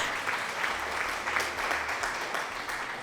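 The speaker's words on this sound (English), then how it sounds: "Who's clapping?" Hands clap steadily like a small round of applause during a chatty livestream, an even wash of claps at moderate volume with no voices over it.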